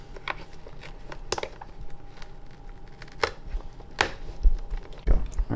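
Sharp knife snaps and cracks while breaking off a piece of a Foster sound tube on a 2017 supercharged Toyota Tacoma, several distinct close clicks scattered over quiet handling noise.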